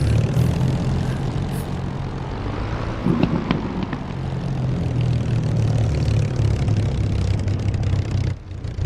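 A Spitfire's propeller engine drones loudly and continuously in the DCS combat flight simulator, a close, steady roar that swells slightly as the throttle shifts, with no voices.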